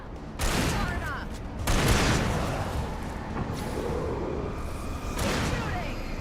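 Gunfire in Alan Wake rings out as dense, loud bursts of shots and booms, with a voice talking over the noise throughout.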